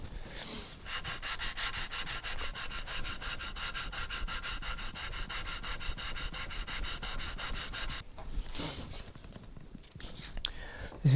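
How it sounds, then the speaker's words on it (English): Sandpaper rubs stain back off quarter-sawn wood on a PRS-style guitar, a close, even rasping stroke that runs steadily for several seconds, then stops for a few soft scuffs and breaths. "This is quite an awkward piece of wood actually to sand the stain back"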